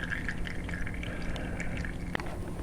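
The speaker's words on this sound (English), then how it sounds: "Let it finish draining off." Oil draining from a 2014 Honda CTX 700 motorcycle during an oil change, a faint steady trickling pour with light drips and one sharp tap near the end, no talking.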